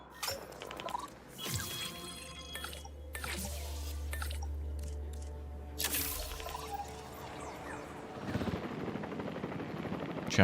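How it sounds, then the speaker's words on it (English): Helicopter lifting off in the Jurassic World Evolution 3 game, a steady low rotor drone running under a busy mix of game effects, with a loud burst near the end. "Chopper's taking off again."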